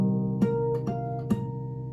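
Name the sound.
guitar harmonics, lightly touched strings between frets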